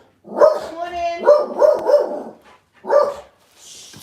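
A dog barks in a short series of loud, close, tonal barks and yips, a cluster of four followed by a pause and one more, with no speech over it.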